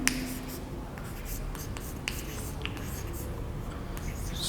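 Pen or chalk writing during a class lesson, a continuous soft scratching with small taps and strokes, close and steady.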